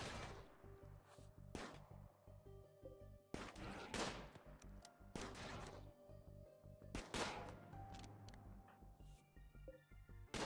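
Gunfire from a colonist in RimWorld blasting a hydroponics basin: several sharp, loud shots in irregular bursts, each snapping out over a low steady hum.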